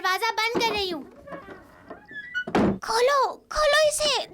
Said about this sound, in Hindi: मैं दरवाजा बंद कर रही हूँ।